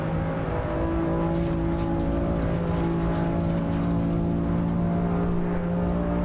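A race car engine in Assetto Corsa EVO holds a steady, loud, droning hum with sustained tonal whine throughout, no passes or talk.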